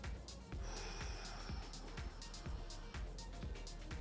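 Forceful exhalations during a home workout come as a series of sharp, rhythmic breath bursts about every half second, close to the microphone and fairly loud.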